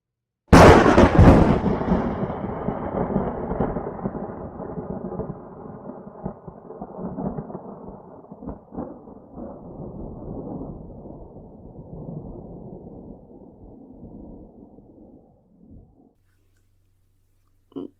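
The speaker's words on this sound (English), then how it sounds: "It's turning red, and those storm clouds, they've come from nowhere. The trees are shaking, and lightning is flashing everywhere." A thunderstorm unleashes a loud, sudden thunderclap that rolls on into a long, deep rumble with crackling bursts, slowly fading away over many seconds until near silence.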